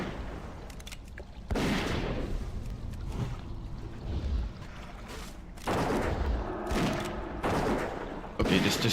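Gunfire in the game World of Warcraft Classic Hardcore, with repeated bursts of sharp shots and booms coming in loud clusters separated by short gaps.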